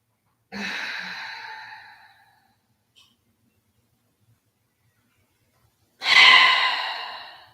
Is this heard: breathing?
yes